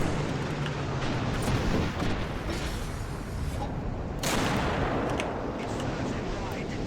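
Heavy rumbling battle noise from War Thunder, with the T-34-85 tank's cannon firing near a building, a sharp blast around the midpoint cutting through a dense, constant roar of engine and combat.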